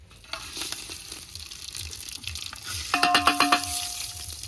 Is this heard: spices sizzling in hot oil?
yes